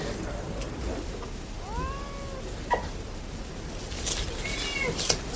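A pet cat meows close by, several drawn-out rising and falling cries spread over a few seconds, with faint background noise and soft voices underneath.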